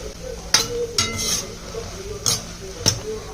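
Makhana (fox nuts) tipped into a pan over medium heat while making gond dry fruit date laddoos, with a few sharp clinks and rattles against the pan over a soft background sizzle.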